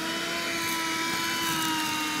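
A household cleaner runs steadily over a surface, a continuous close motor whine with a sustained hum and no break.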